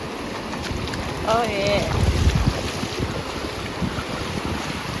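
Steady wind rushing across the microphone on the deck of a cruise ship at sea, a constant low roar with a faint wash of waves beneath and a brief spoken remark in the middle.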